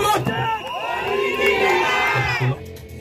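A crowd at a campaign rally in Ntoum shouts and cheers loudly for about two and a half seconds in a dense, continuous roar of many voices, then quickly drops away.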